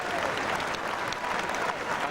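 Home crowd at a Gloucester rugby match applauding a try scored under the posts, a dense, sustained wash of clapping and cheering that stays loud and steady throughout.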